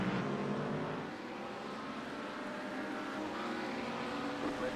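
Race cars lapping Daytona in iRacing, a steady, loud engine drone with tire and wind noise holding constant throughout, no distinct pass-bys.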